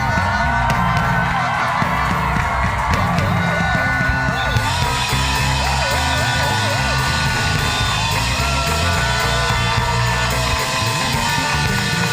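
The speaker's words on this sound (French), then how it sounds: "Poussez les cris de joie, poussez les cris de joie." A worshipping congregation shouts and whoops cries of joy during praise, a loud sustained crowd roar with yells, singing and music underneath.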